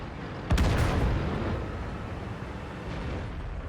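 A tank's main gun fires once in a tank battle video game, a sudden heavy boom that rolls into a long, rumbling decay over steady engine and battlefield noise.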